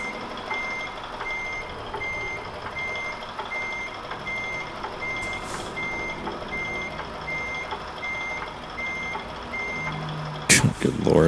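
Reversing beeps pulse steadily over a truck's engine rumble in American Truck Simulator as a heavy truck backs a trailer toward a construction site, with a short air brake hiss near the end.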